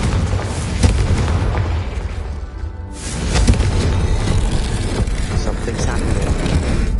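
A Confringo explosive spell blasts in a Hogwarts wizarding video game, a loud booming burst over a dense, rumbling roar that briefly dips and then swells again, with dramatic game sound filling the whole stretch.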